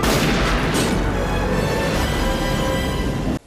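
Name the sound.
gunshot in the film Under Siege 2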